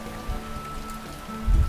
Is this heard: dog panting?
no